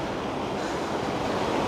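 Steady wash of sea waves along the seafront at Dawlish Warren, Devon, a loud continuous roar of surf with wind rushing over the microphone and no voices.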